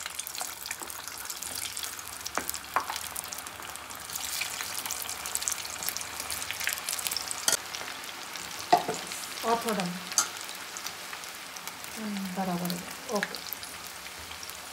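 Meal maker soya chunks for a Manchurian fry steadily in an oiled pan while a spoon gently stirs them, with continuous crackling sizzle, occasional scrapes and a few short bits of talk.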